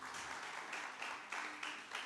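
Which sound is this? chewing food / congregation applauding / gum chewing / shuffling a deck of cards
congregation applauding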